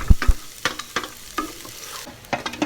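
Garlic being stirred and sautéed in a hot pan, with sharp scraping stir strokes over a soft sizzle, several distinct clatters spaced through the stretch with no talking.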